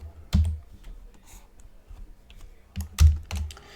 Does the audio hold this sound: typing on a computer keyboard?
yes